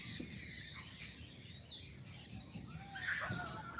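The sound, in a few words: male Cooper's hawk calling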